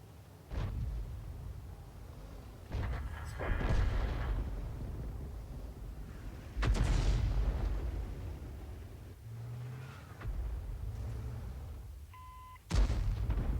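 Cannon rounds fired in a video game: several loud, booming blasts spaced a few seconds apart, each with a sharp crack and a long rumbling tail, plus a brief electronic beep near the end, with no speech.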